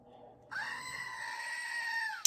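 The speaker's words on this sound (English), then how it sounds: "this here is my pet goat named Abu Bakr" Pet goat letting out a single long, loud, scream-like bleat close by, held steady for nearly two seconds before breaking off.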